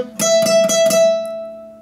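A single high note at the twelfth fret of a flamenco guitar rings clearly, plucked several times in quick succession, then sustains and slowly fades.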